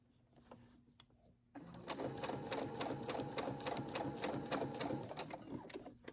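A Brother SE600 sewing machine stitches fabric for a hair bow, starting after a quiet moment with a steady, rapid mechanical chatter of needle strokes close by.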